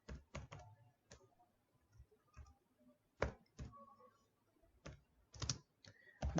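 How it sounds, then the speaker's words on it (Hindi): Typing on a computer keyboard while entering code into a sum-numbers program in Visual Studio Code, with clusters of quick, close clicks and keystrokes separated by short pauses. "यहाँ पे हम टाइप करेंगे"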